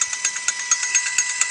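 A used DC anchor windlass motor spins freely under power, giving a steady high whine with a regular pulsing beat, loud and close with no other sounds.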